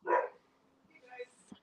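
A dog barks once, close and loud, in a burst at the start, followed by quieter indistinct background sounds and faint voices.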